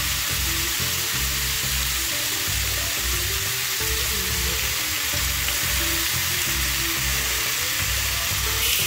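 Pork fat sizzles steadily in a pan as its oil renders out, a dense continuous frying hiss with a rhythmic low bubbling pulse, close and loud with no voices.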